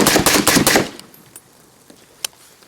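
A .308 rifle fires a rapid, loud burst of about six close shots, then goes quiet apart from a single faint click and one sharp tap afterward.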